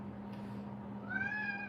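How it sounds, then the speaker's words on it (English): A pet cat cries out with one drawn-out, rising meow, fairly clear and close, over a steady low indoor hum, with no talk during it. "Do you guys just hear my cat just cry right there?"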